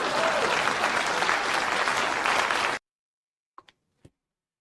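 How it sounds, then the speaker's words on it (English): An audience at a political speech claps and cheers in a loud sustained burst that cuts off abruptly into silence, followed by a few faint knocks. "Please clap."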